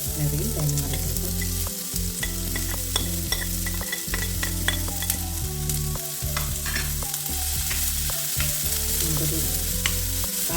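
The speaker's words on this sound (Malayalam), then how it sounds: "ഉള്ളി ഇട്ട് അത് ജസ്റ്റ് ഒന്ന് വഴന്ന് വരുമ്പോഴത്തേക്ക് തേങ്ങ ഒരു 1/4 മുറി തേങ്ങ മതി." Small shallots and grated coconut sizzle and fry in a pan for a jackfruit seed stir-fry, a dense continuous crackle broken by repeated scraping stirs of a spoon, close and loud with no speech.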